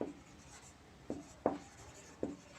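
Chalk or marker tapping and scratching on a classroom board during a physics lesson, a few short, faint strokes spaced irregularly against a quiet room hum.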